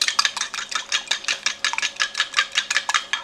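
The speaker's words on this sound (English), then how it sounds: "Pardon me while I beat my eggs." Eggs being beaten in a bowl with a whisk or fork, a fast, steady run of bright clicking strokes about four per second, close and continuous with no talking.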